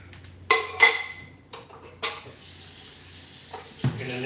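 Running tap water splashes into a jar to soak it, with several sharp clinks and knocks of glass and a gurgling pour that grows fuller toward the end, close by with no talking.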